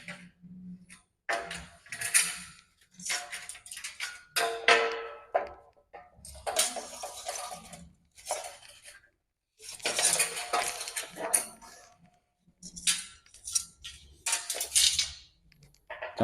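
Repeated metallic clinks and scraping bursts from cutting an aluminium window frame about 2 meters long, irregular strokes separated by short pauses over several seconds, close and fairly loud with no voices.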